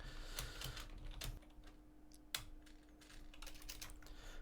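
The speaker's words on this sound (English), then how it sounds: "I'm typing this in rules request." Keystrokes on a computer keyboard during an online Star Wars Destiny card game league match, quick irregular clicks in bursts with a few louder taps, close and fairly quiet over a steady low hum.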